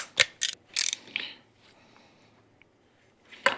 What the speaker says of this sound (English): That ratchet strap has never failed me.